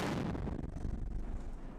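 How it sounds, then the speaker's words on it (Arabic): A B10 recoilless gun fires a single shot toward a house about 500 metres away, a loud, heavy boom whose deep rumble rolls on and slowly fades. "تضع خوذتها وتطلق طلقة تحدث دويا عنيفا وتطال منزلا واقعا على بعد 500 متر"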